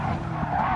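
Race car tires skid and squeal under hard braking in a racing video game at the Nurburgring, a loud continuous screech over engine roar, close and unbroken.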